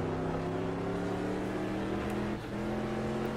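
Race car engine holding a steady harmonic drone, then briefly dipping as the driver lifts off the throttle approaching a right-hander on a Targa road stage, before the note resumes at full strength.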